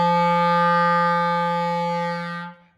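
A school band, with clarinets and saxophones, plays one very low G note together as loud as possible, a single sustained, buzzy, reedy tone held steadily for about two seconds before cutting off.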